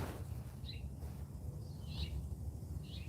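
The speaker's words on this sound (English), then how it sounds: "Boy, that house finch is so distracting." Brief high chirps from a house finch come in three spaced bursts, faint against a constant low rumbling background.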